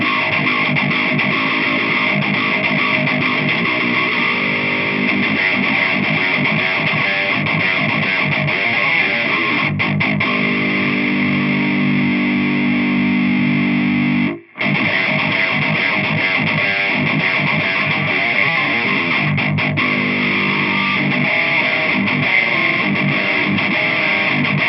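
An electric guitar plays through a Black Cat Djentonic distortion pedal with the warmth control pushed high into a Swamp Thang Eminence speaker, producing a loud, dense, roaring distorted tone that sustains throughout with a brief dropout midway.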